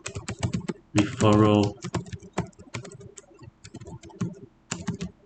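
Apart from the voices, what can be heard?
typing on a computer keyboard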